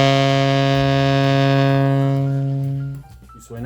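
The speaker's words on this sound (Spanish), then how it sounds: "la primera nota que vamos a conocer del saxofón, saxo alto o saxo tenor, lo que toques, es el si bemol, que es esta nota." Alto or tenor saxophone sustaining a low B-flat, a loud, reedy, buzzy tone held steady for about three seconds before it cuts off, close and alone.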